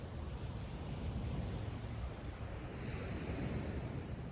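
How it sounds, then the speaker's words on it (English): Ocean waves lapping on the beach at Delray Beach, Florida, a continuous broad wash of surf with some wind rumble, steady and fairly close, no voices. "waves lapping up on the beach"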